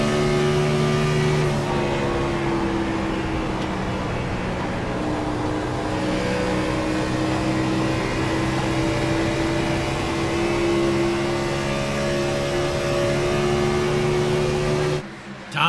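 A Gen 4 stock race car engine in iRacing's All-American Cup Series at Texas drones loudly and steadily from the cockpit, its pitch rising and shifting gradually, then cutting off abruptly at the end.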